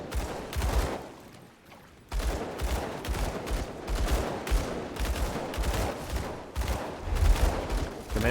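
Rapid pistol gunfire from dual pistols in the video game Grim Dawn, a steady stream of sharp shots over about eight seconds, briefly dropping away before resuming, loud and close with combat noise beneath.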